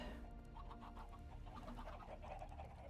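Chickens cluck repeatedly in a Minecraft game world, a steady run of soft, close clucks over a constant low background hum, with no talking.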